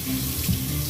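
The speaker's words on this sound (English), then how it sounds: "Dump all of that starchy water off" Starchy rinse water from washed rice pours steadily into a kitchen sink, a loud, close, continuous gush lasting the whole moment.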